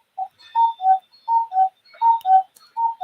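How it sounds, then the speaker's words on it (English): Clocks in a craft room tick in an even, alternating rhythm, crisp and close, with a few faint higher clicks and no voices. "Definitely hear the clocks."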